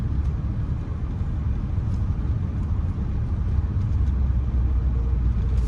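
A car rolls slowly at about 9-10 miles an hour through the historic Springfield neighborhood of Jacksonville, Florida, a steady low engine and road rumble heard from inside the cabin, continuous and even throughout.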